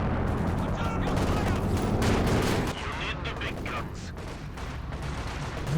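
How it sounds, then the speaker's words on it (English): Heavy artillery blasts from an ISU self-propelled gun in a Company of Heroes 2 battle: dense, loud booming gunfire fills the first few seconds, then eases into a rumbling mix of further shots and battlefield noise. "There's the ISU firing."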